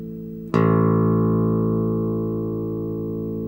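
A single plucked open A string on a bass guitar, struck sharply and then sustaining as a deep, steady tone that decays gently, with no voices over it.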